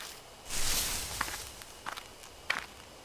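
Footsteps rustling through bushes along a gloomy forest trail in the video game Death Mark, a brushing swish followed by a few scattered light steps nearby, heard without talk.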